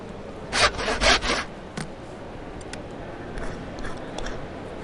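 Screws being filed in the video game Nobodies: Silent Blood, heard as three rough rasping strokes in quick succession, then a single short scrape, followed by faint softer rubbing.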